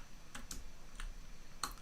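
A computer keyboard's shift key is pressed during a Minecraft session, giving a handful of faint, scattered clicks close by against a low steady hiss.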